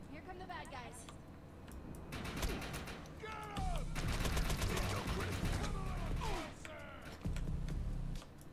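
Rapid gunfire from a Defiance firefight, repeated volleys of shots with bursts of automatic fire throughout, mixed with game effects and heard under frequent talking.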